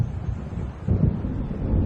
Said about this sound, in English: It seems there's a storm coming.